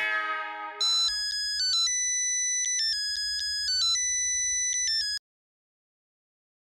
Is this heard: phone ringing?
yes